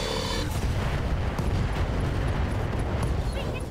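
An Alpha Strike in the BattleTech mod RogueTech, a heavy booming barrage of mech weapons fire that rumbles on without a break, with a voice faintly under it.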